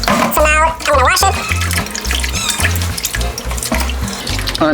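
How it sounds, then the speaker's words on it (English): Running tap water splashes steadily in a sink as jackfruit is washed for a Mexican vegan pozole, with music playing over it and a voice speaking at the start. "So now I'm gonna wash it."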